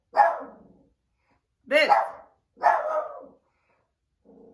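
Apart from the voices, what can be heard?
dog barking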